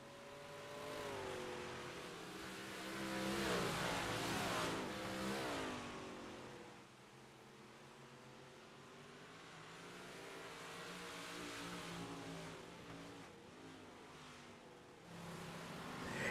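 Race cars in a heat race on an oval track roar past in waves, engines rising and falling as the pack accelerates down the backstretch, loud and continuous with overlapping revving.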